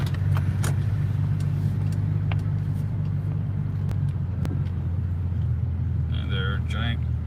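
A Lexus 330 creeps slowly into a Canadian Tire parking lot, its engine and tyre rumble a steady low drone throughout, with a few faint clicks and a brief higher whine near the end.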